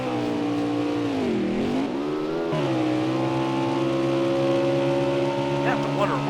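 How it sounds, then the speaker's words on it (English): The number 34 NASCAR Winston Cup stock car races at Canadian Tire, its loud, steady engine drone dipping and wavering in pitch as it sputters before settling back into a constant roar. "Team Swish's car, the 34 car, is sputtering a little bit"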